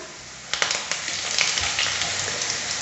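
Curry leaves hit hot oil with browned garlic while making sambar, setting off a sudden loud crackling sizzle that settles into a steady hiss with scattered pops, close up and with no voices.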